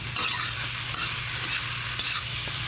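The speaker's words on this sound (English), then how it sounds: "It's fried rice with some onion, celery, a few mushrooms in it, a little soy sauce." Fried rice with onion, celery, mushrooms and soy sauce being stir-fried, a loud, steady sizzle with occasional utensil knocks and scrapes over a low hum, without speech.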